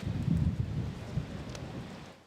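Steady rain and wind in Castilla y León, a dense low rushing wash that fades slightly toward the end, with no voices.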